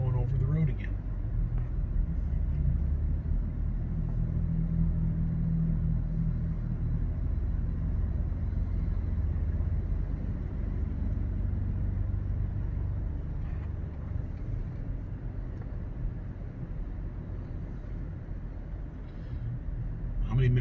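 A car cruising along US 441 through the Great Smoky Mountains between Gatlinburg, Tennessee and Cherokee, North Carolina, giving a steady low road rumble and engine hum that continues throughout under some passenger talk.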